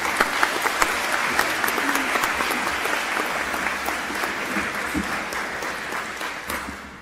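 A convocation audience applauds the university president walking to the podium. Dense, steady clapping from a large crowd fills the space, stays even throughout and tapers slightly at the end.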